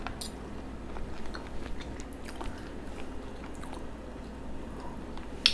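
A bite of chicken salad made with ricotta instead of mayo being chewed, soft squishy wet mouth sounds up close over a low steady background hum, no talking.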